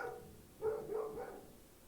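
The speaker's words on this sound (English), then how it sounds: "That was my big puppy outside." A big dog, a large pet puppy, barks outdoors a few times in a quick, muffled burst, heard faint and at a distance, with no talking over it.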